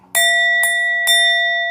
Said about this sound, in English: Let me ring the bell for you real quick.